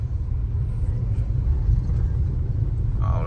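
A car creeps slowly through busy market-road traffic in Pallavaram, Chennai, with a steady, loud low engine and road rumble throughout and a brief brighter noise near the end.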